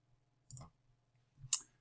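Two separate computer mouse clicks, about a second apart, while saving sprite images for a Scratch project; each is short and crisp over a faint low hum, with no talking.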